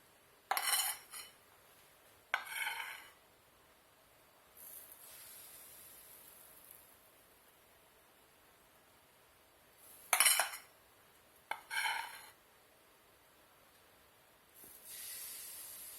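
Gluten-free chestnut flour toasts cook in a pan, giving soft hissing sizzle broken by sharp clattering bursts of a utensil against the pan, with quiet gaps between. No one speaks.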